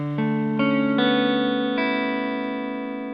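Electric guitar with custom wiring played on the neck pickup in single-coil split mode: a few clean picked notes added one after another, building into a sustained, ringing chord that slowly fades, heard alone.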